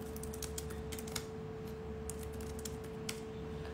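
Rapid, uneven tapping of keys on a computer keyboard, close and fairly quiet, with clustered bursts and short pauses over a steady low background hum.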